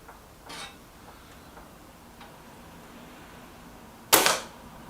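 A Reximex Zone air rifle fires a pellet: one sharp, loud crack near the end, preceded by a fainter click earlier, in an otherwise quiet outdoor setting with no talk.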